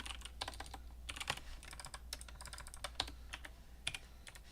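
Typing on a computer keyboard to write a live chat message, close, quiet irregular clusters of key clicks with brief pauses between bursts.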